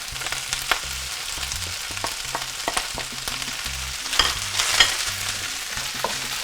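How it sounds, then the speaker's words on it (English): Eggs added to Chinese chicken fried rice in a hot pan, with a steady sizzle under repeated scraping stirs, close and clear, and no talking. "Now we're going to add the eggs to that."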